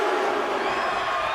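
A roaring game-arena crowd cheers steadily through a WWE 2K25 intergender wrestling match, with a loud, continuous wash of noise from start to finish.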